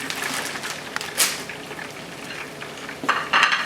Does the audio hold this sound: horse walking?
no